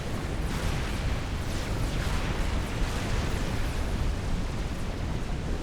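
A missile ship blown apart in a real-time strategy battle in Forged Alliance, a dense, sustained rumbling explosion roar that stays loud and steady throughout without any pause.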